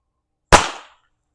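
A Beeman BP.50 fires a chemical round in a single sharp, loud pop that decays quickly into silence.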